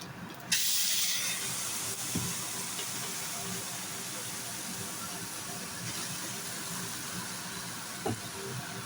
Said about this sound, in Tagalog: igisa natin yung malagkit